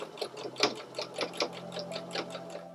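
A sewing machine stitches a V-neck neckband onto a garment in rapid bursts of rhythmic needle clatter, close and even, pausing briefly between runs, with no talk.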